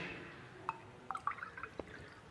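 Water poured into a glass container, with a short run of faint trickles and drips in quick succession against a soft room hum.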